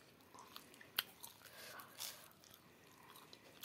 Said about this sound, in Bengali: দেখো এ দেখো খাচ্ছি